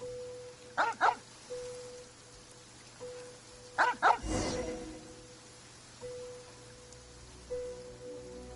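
Dog in the game Genshin Impact barks in two quick double bursts a few seconds apart over steady rain-like ambience and a faint tonal hum, fairly close and clear, with no talking.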